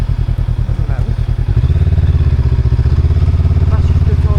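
Motorcycle engine thumping at a fast idle, then revving into a denser, louder rumble as the bike pulls away, close to the rider.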